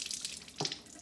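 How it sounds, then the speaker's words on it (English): Milk pours into a drinking glass in one short, close splash of liquid over a soft steady hiss. "I'm gonna just pour me some milk"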